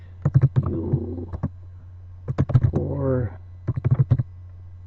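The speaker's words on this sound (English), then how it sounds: "I'm going to start typing here, have it centered" Computer keyboard keys click in short bursts of rapid taps, close and fairly crisp, mixed in with a person talking over a low steady hum.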